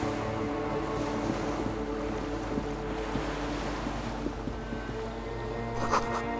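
Ocean waves wash and rumble steadily in the video game Disco Elysium, a continuous surf roar with wind and a low droning hum, no voices.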